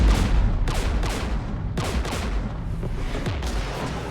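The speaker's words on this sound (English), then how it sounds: "We're taking fire." Gunfire and artillery blasts from the video game Mass Effect, a dense battle din with repeated sharp shots and booming impacts layered over continuous rumble, loud and close throughout.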